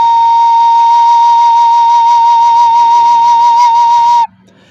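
A recorder sounds a single steady B flat, held clean and loud for about four seconds before stopping abruptly, with no voices.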